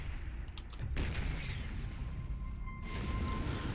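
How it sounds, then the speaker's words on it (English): Siege tanks shell SCVs in a StarCraft 2 TvT match, a dense rumbling barrage of heavy impacts with a sharp burst near the start and steady crackling blasts after. "the tanks of NeO are just edging a little bit closer at a time, just shelling away at the SCVs"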